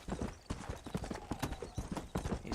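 Horse hooves clip-clop steadily in Red Dead Redemption while a rider travels bareback, the quick, uneven beats running close and clear through the whole stretch.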